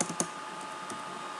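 A few quick keystrokes on a computer keyboard type a string into a C# program, with sharp close clicks at the start that fade into a quiet hiss.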